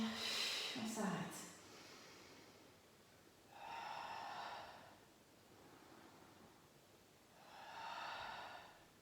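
Slow, deliberate breaths in and out during a Pilates leg exercise, two or three long airy exhalations spaced a few seconds apart, close and soft after a brief bit of movement noise.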